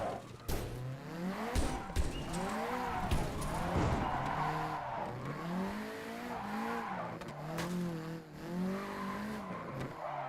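A JDM car drifts with heavy throttle, its engine note rising and falling in repeated sweeps while the tires squeal continuously, loud and close with no talking.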